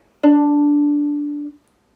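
One sustained bowed violin note on the open D string, loud and close, held evenly for over a second before ending.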